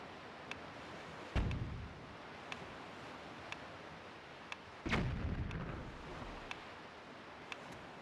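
Cannon fire from pirates in The Legend of Zelda: The Wind Waker: two heavy booming blasts a few seconds apart, each with a rumbling low tail, over a steady wash of wind and sea ambience with faint clicks.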